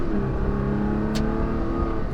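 A Toyota Tacoma pickup accelerating hard with a steady engine drone and a brief squeal of wheel spin, heard from inside the cab.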